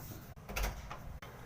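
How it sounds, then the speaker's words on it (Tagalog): A door being opened quietly in a house at night, heard as a brief soft creak and rattle with a couple of faint knocks against a low background hum, no talk. "Siyempre, buksan muna natin yung pinto."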